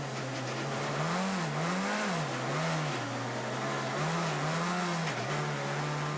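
A Peugeot 207 rally car on snow tyres at the 2011 Rallye Monte-Carlo drones past with a steady engine note that wavers and dips in pitch as it shifts. The sound is loud and continuous, with a constant noisy background.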